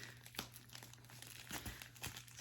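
Cardboard and plastic packaging of a fabric sampler box crinkles and tears at close range, with quiet rustling broken by several short ripping bursts and no talking.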